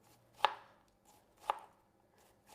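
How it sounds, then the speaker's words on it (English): A knife chopping onion very finely on a board in a home kitchen, three crisp separate chops spaced about a second apart, close and clear with quiet between them. "I'm going to go very fine."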